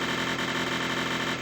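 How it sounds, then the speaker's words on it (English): A constant, loud, grating electronic buzz drones without a break while both flippers are held down in a Simpsons flash pinball game. "You can even do it with both of the flippers if you really want to lose your sense of hearing."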